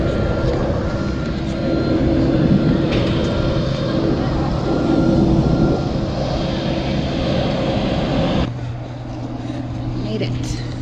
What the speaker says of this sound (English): Final plane to Kilimanjaro.